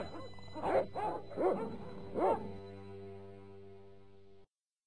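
Dogs in the Broken Sword adventure game give four separate barks, sharp and close, each with a short yelping tail, ahead of a steady low background hum.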